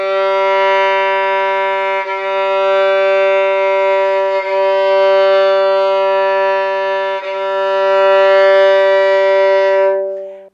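A violin's open G string bowed for tuning, sustaining one steady, rich harmonic tone for about ten seconds, with brief dips where the bow changes direction, close and clear with no talk.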